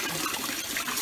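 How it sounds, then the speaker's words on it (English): A cooking pot filling with water from a tap, a steady, fairly loud splashing gush that runs evenly for the whole second. "So I'm just going to fill my pot up with some water"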